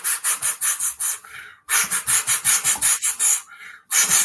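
Sandpaper rubs back and forth in quick, even strokes, loud and close, a rhythmic rasping run that pauses briefly and then resumes.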